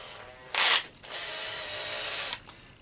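A power drill threads a rod into a plastic Tekno RC car brake linkage: a short sharp whir, a brief pause, then a longer, steady whirring run that stops cleanly.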